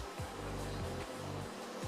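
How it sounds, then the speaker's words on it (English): A blow dryer hums steadily and close while drying latex make-up on skin, a continuous whirring drone whose pitch wavers slightly as it moves, with no talking. "take a blow dryer and make sure it is completely dry"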